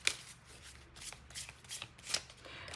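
Tarot cards being shuffled by hand, a series of soft crisp riffling bursts in an uneven rhythm, close and fairly quiet, with no speech.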